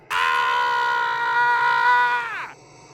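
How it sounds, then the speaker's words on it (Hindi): A man lets out a long, loud, high-pitched scream of pain in a horror film scene. It holds steady for over two seconds and then breaks off sharply, with no other sound. "उस आदमी की एक दर्दनाक चीख के साथ ये सीन यहीं कट हो जाती है"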